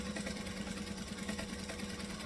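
A sewing machine motor runs steadily while stitching a fabric tote bag with a fabric panel, a continuous close mechanical hum with no pauses.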